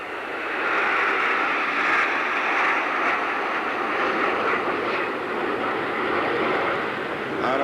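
An MB339 jet trainer at an airshow makes a broad, steady jet roar that swells in the first second and holds for the rest of the clip, with faint talk under the noise.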